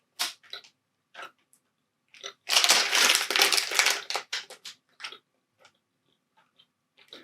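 Candy from a subscription snack box being chewed close up, with wet crunching bursts that start and stop, a long dense stretch in the middle and scattered soft chews before and after, no talking.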